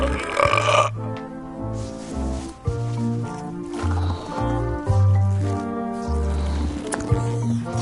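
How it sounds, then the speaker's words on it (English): Burping contest between characters in the adventure game Return to Monkey Island: long, rumbling, exaggerated belches set over a lively musical score, loud and close. "how about a burping contest?"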